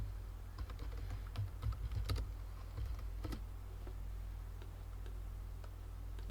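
Commands are typed on a computer keyboard, with quiet, close key clicks coming in short irregular bursts and a few louder taps, then a stretch of low room hum with no speech.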